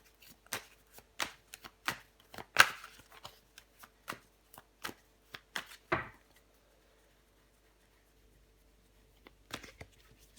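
Tarot cards being shuffled and laid out on a table, a series of soft crisp slaps and flicks in an uneven rhythm, close and quiet, then a pause before a few more.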